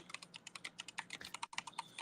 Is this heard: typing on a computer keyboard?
yes